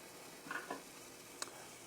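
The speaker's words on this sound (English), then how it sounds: "You hear that? Sizzling." Grilled cheese toast sizzles in a pan with a soft, steady hiss, broken by a couple of faint stirring or scraping sounds and one sharp small click.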